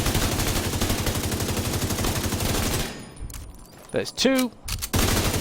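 Rapid automatic gunfire from a weapon in the video game The Division 2, a steady rattling burst for about three seconds, then a pause with a voice speaking and other game sounds before firing resumes.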